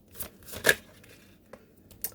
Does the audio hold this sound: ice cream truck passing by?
no